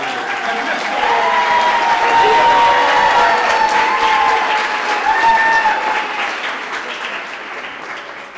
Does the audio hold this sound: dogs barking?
no